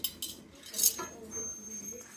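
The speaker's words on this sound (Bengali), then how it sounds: "আমি পায়েস রান্না করতেছি এখানে বসে বসে" Metal utensils clink against pots and dishes while payesh, a Bengali rice pudding, is cooked at home during preparations for a household puja; a few sharp clinks over a low kitchen background, with a voice speaking faintly underneath.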